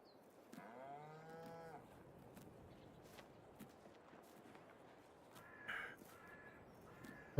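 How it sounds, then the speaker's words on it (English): A cow in Farming Simulator 22 gives a clear, drawn-out moo near the start, and later bursts of cawing crow-like calls rise over a quiet outdoor farm ambience with soft footsteps. "God, I just walked through a cow."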